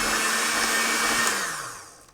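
An electric mixer whirs loudly and steadily while creaming butter and sugars for pumpkin bread, then winds down with a falling pitch as it switches off.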